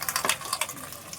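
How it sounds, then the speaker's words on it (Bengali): Running water splashes close by as something is washed at home, a brief, steady hiss of flowing water with small splashy bursts. "এই যে ধোয়া হচ্ছে।"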